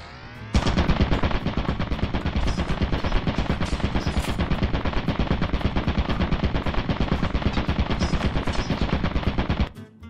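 Turret in the Lethal Company game firing a sustained, rapid burst of loud automatic gunfire for about nine seconds, abruptly starting and stopping, with no talk over it.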